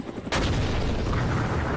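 Gun batteries on the airship Nautilus firing in a video game, hovering over a burning industrial area; a sudden loud blast opens a dense, sustained roar of heavy gunfire that stays close and continuous.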